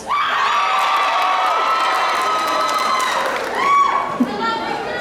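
A large audience at a cosplay masquerade contest shrieks and cheers continuously, loud and dense throughout, with high-pitched screams rising and falling over a steady crowd roar.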